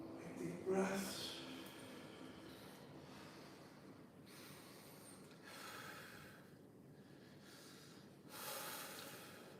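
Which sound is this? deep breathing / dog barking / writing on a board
deep breathing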